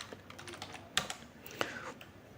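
Computer keyboard typing as a password is entered: soft, irregular key clicks close by, with two sharper, louder keystrokes standing out among the lighter taps.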